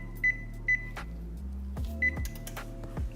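Oven control panel set to preheat to 350 degrees, sounding a series of short sharp electronic beeps between soft button presses and faint clicks, close and clear with no talk.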